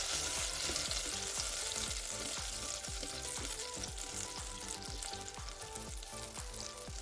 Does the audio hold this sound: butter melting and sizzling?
yes